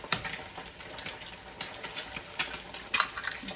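Eggs sizzle and get stirred and scraped around a hot pan while making shrimp and chicken fried rice, with quiet irregular clinks and scrapes over a soft frying hiss.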